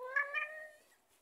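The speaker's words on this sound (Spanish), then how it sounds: "aquí hay un gato muy peludo" A very furry cat gives a single soft, drawn-out meow that rises slightly and then fades, faint and close.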